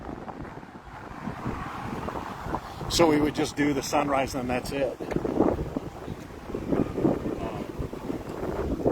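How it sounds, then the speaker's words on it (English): Gusty wind buffets an open microphone outdoors on a walk in Hawaii, a steady low rumble running throughout beneath a woman's close, continuous talking. "You guys are hearing the wind."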